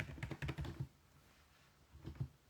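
Quick clicking keystrokes on a computer keyboard as a question is typed into ChatGPT, a fast run of taps followed by a pause and a short second burst, close and quiet.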